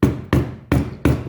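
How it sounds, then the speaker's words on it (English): A delicate hammer drives a shaft into the handle of an antique polishing iron, four close, evenly spaced taps with short ringing decay and no talk. "very delicate hammer to hammer it in"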